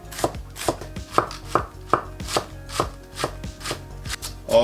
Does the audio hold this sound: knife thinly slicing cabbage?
yes